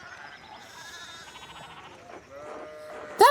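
Sheep bleat in the video game Pentiment over a soft, tonal ambient bed, with wavering cries building toward a sudden loud bleat at the very end.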